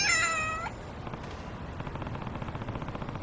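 Short, loud cat meow from a video game character's pet cat being fed salmon pâté cat food, followed by quieter rhythmic eating or game sounds.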